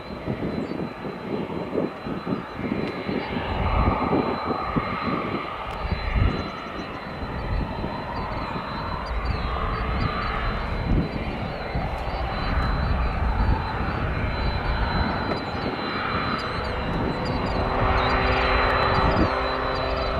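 Aircraft taxiing at Chicago O'Hare Airport during a busy evening, a steady broadband engine rumble and whine holding at moderate level for the whole span, with faint airport background noise and no talk.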